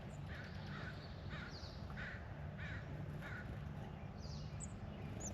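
Crows cawing in a spring flower farm garden, a series of short harsh calls repeated at a steady pace, moderately distant over a dense rumbling outdoor background.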